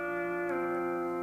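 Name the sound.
pedal steel guitar playing last note of C scale run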